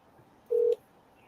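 A single short touch-tone beep from a phone being dialed, clear and fairly loud over faint background noise.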